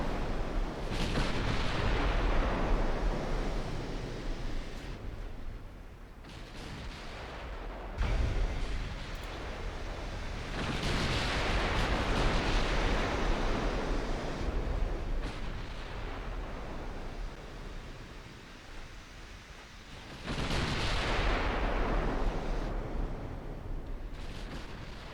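Naval guns fire high-explosive shells in the naval warfare game Fire & Iron, heard as a series of deep, booming blasts with long rumbling decays, several heavy reports spaced seconds apart over a continuous low roar.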